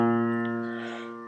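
A single low B flat struck on a piano, a rich held tone with strong overtones that slowly fades over about a second, heard alone and close.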